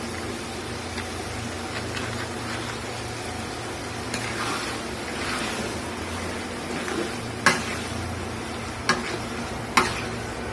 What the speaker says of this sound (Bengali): কষানোর মাঝখানে আমি ভিনেগারটা দিচ্ছি, যেন ভিনেগারের যে ফ্লেভার সেটা ঢোকে।